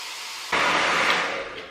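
Hair dryer fitted with a diffuser switches on at medium speed with no heat, a steady close airy hiss and whoosh that holds and slowly eases off.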